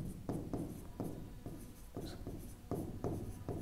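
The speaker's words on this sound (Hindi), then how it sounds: "मैं यहाँ पे लिख दूं" Chalk or marker strokes on a board during a physics lesson on electric charge and field: a steady series of short scratching strokes in an irregular rhythm, close and moderately loud, with no talk over them.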